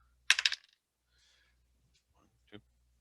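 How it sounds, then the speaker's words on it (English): A heavy copper die tumbling onto a hard surface, giving a quick rattling burst of bright clicks that dies away, then one small tap a moment later, close and crisp against near silence. "new dice roll"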